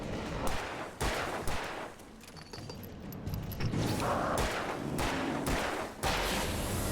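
Gunshots fired at Rusty in Alan Wake Remastered, a rapid series of sharp cracks spread irregularly across the clip, some loud and close, with no talking.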